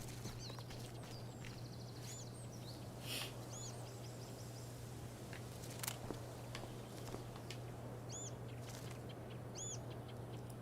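A bird in the Life is Strange Before the Storm game gives several faint, high chirping calls over a steady low hum and soft background ambience, with no talking.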